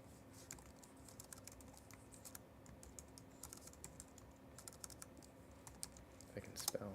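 Rapid computer keyboard typing while searching for a tarantula-type spider, a steady run of light, close key clicks spread across several seconds, with a few louder taps and a brief louder clatter near the end.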